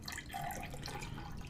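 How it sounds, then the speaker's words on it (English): Water pouring into a glass in the Obra Dinn game, a short steady trickle with faint dripping, heard alone. "Pour myself a glass of water."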